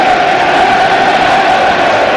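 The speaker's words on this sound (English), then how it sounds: "you can hear the crowd already starting to celebrate" A football crowd at a Sheffield United versus Sheffield Wednesday match roars in a dense, steady wall of cheering, starting to celebrate as the game nears its end, loud and continuous with no clear talk on top.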